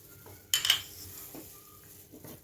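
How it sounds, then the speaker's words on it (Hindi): Oreo biscuits drop into a milkshake jar with one sharp clatter and a brief rattle, followed by a softer knock, close and clear in a quiet kitchen. "अब साथ में इसमें ओरियो बिस्किट डाल दीजिए।"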